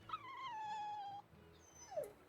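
A dog in the video game Tales of Berseria lets out a long, quavering whimper that slides downward, then after a pause gives a short rising whine, close and fairly faint, with no one speaking.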